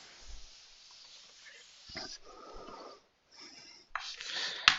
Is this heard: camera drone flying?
no